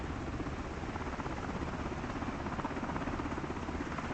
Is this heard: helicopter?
yes